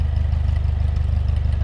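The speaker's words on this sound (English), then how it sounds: "Here it runs a pulley off of the PTO. The belt runs the saw." A tractor engine drives a belt-driven firewood saw through a pulley off the PTO, a steady low rhythmic chugging and droning that runs continuously up close.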